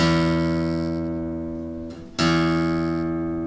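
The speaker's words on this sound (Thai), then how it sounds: "อันที่สาย6ครับเสียง E ครับ" The low sixth string of an acoustic guitar is plucked on an E note and rings out steadily, then is struck again after a short gap, clear and alone.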